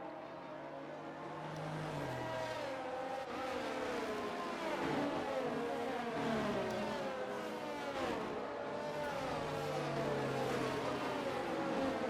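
Several race cars weaving on track to warm their tyres in an Xbox racing game at the Spain round, engines droning and revving up and down continuously at moderate distance.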